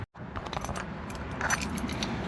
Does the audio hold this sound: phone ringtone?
no